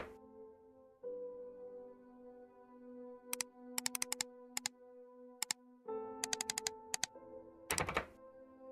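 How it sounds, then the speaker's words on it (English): Sharp mechanical clicks and clacks ring out in quick bursts over a low droning hum as a gun case is opened in the horror mystery game The Painscreek Killings, close and crisp with no talk. "Opening the gun case?"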